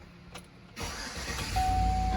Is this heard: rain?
no